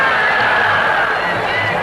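A large crowd cheers and shouts at a 1960s election rally for Fatima Jinnah in Dhaka, a steady, dense wash of voices and hubbub throughout.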